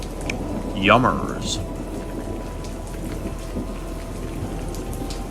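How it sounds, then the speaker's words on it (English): Heavy rain pours steadily in a thunderstorm, a dense continuous hiss with low rumbling underneath, while a voice speaks briefly near the start. "the storm is getting worse"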